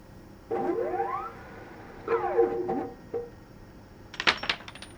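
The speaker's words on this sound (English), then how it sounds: "I've dropped coins." Coins dropping in the Colossal Cave video game, a few bright rising chime-like tones in short bursts followed by a cluster of sharp jingling clinks near the end, clear and close.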